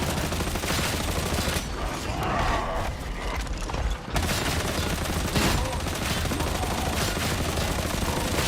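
Rapid weapon fire from Warhammer 40,000: Darktide, a dense, continuous clatter of gunshots and mechanical action that fills the scene, with a brief lull midway before the shooting resumes at full intensity.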